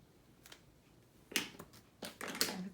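Scissors trim a paper tag for a Christmas folio with a few quiet, crisp snips and crinkles, isolated cuts close by with short pauses between them.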